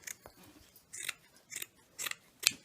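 Scissors cut out burlap flower petals in five crisp snips spaced about half a second apart, close and fairly quiet, with no talk.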